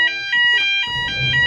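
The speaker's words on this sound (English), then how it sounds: "So back after fire alarm mid-podcast." A fire alarm sounds mid-podcast, loud repeated electronic beeping pulses in a regular rhythm, close and clear with faint background noise between tones.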